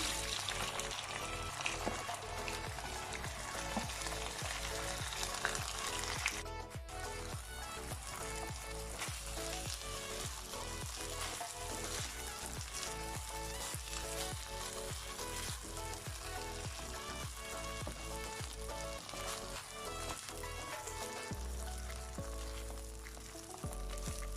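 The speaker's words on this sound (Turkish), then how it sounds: "yağıyla tereyağını koydum. Şimdi pirincini ilave ediyorum" Steady, dense sizzling of rice frying in butter and oil, crackling continuously throughout with occasional stirring scrapes, close and fairly loud, no voices.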